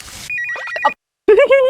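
A phone ringtone plays in a short electronic burst of bright repeating tones, then breaks off into silence before a voice starts talking.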